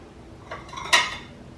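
Toast plates from a tea set in purple, green, peachy orange and pink, clinking softly as they are handled; a light contact near the start, then one sharper ceramic clink followed by fainter rattles.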